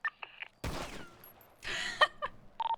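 Bursts of gunfire at a shooting range in the video game GTA, two sharp volleys of rapid shots with ringing tails, separated by short gaps and small clicks.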